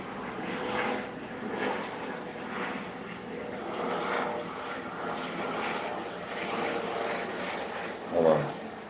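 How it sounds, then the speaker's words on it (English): Airplane flying over near an airport, a continuous rumbling engine drone that swells and fades gently across the span, moderately distant, with a brief louder knock near the end and no talk. "let this plane go by, because I told you I'm near the airport"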